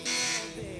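A quiz-show buzzer is tested during a Ramzan special competition, giving one short harsh electronic buzz of about a third of a second, then a fainter tail blending into room noise.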